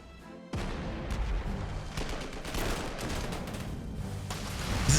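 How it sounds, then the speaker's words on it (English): Artillery barrage in the wartime strategy game Panzer Corps 2: a dense, continuous roll of overlapping booms and firing shots after a brief quiet start, loud and sustained throughout with no talking. "This is just a whole load of artillery just having a weird field day."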